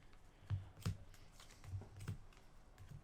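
Sleeved playing cards are pile shuffled, dealt down one by one into stacks with soft, dull taps and light plastic slaps at an uneven rhythm, close by and fairly quiet.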